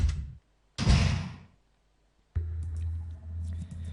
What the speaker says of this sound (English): You go through the red door.